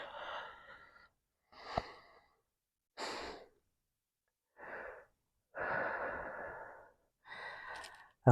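Slow, deep breaths during a yoga session, with about six separate inhale and exhale phases broken by short pauses. Each breath is soft and close, with an airy, sighing tone, and no talking is heard.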